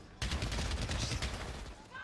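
Stinger submachine guns fire in Valorant on the Split map during a pro match, a dense, rapid rattle of shots that bursts in abruptly and keeps going, loud and close.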